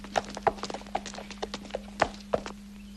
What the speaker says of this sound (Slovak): Vrátil sa kôň pána Shuttleworthiho bez pána.